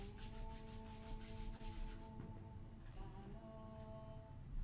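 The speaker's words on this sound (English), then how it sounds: "And rubbing the palms together and the soles of the feet together." Palms rubbing together during a Kundalini yoga warm-up: a soft, steady brushing friction, close and continuous, with a faint tonal hum running underneath the whole time.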